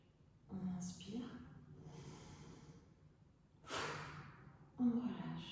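Breathing in and out during a yoga neck and shoulder stretch: soft, close breaths and sighs recur in slow rhythm, with a couple of sharper audible exhales standing out against quiet room tone.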